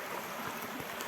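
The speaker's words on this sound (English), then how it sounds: "What a beautiful little creek" A small creek flows steadily nearby, a continuous soft wash of trickling water with no voices over it.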